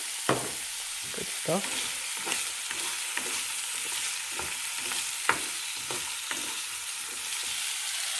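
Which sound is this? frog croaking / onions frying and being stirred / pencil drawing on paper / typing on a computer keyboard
onions frying and being stirred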